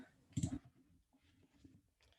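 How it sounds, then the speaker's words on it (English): A short cluster of sharp keystroke clicks on a keyboard, fairly close and crisp, followed by quiet room tone with faint low rustling. "Let me just type it."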